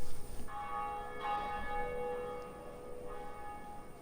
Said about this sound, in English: Ring this bell.